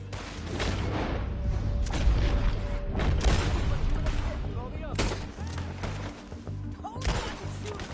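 Gunfire in the Red Dead Redemption 2 video game: a rapid, loud volley of sharp gunshots and booming cracks over several seconds, layered with game ambience and background sound.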